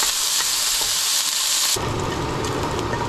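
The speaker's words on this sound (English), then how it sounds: "let's go ahead and add a little bit of oil, some of our onion" Onion hits hot oil in a pan and sizzles loudly and steadily, the hiss shifting in tone partway through as the food settles into the oil.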